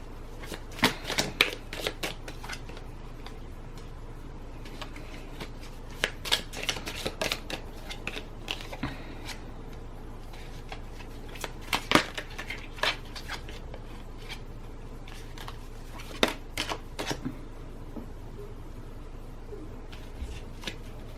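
Tea leaf fortune cards shuffled close up in a long run of crisp riffling bursts and flutters, with brief pauses between rounds and no talk.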